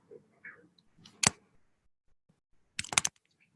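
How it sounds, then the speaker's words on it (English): Keys click on a computer keyboard in two short bursts of typing separated by a pause, close and fairly quiet. "So if I type"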